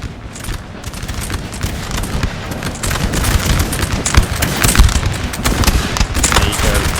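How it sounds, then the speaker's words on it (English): Musket volleys crackle continuously across a Napoleon Total War battle between Austrian and Bavarian armies in 1809, with dense overlapping rifle fire and occasional booms, loud and sustained throughout. "Austrians blasting away"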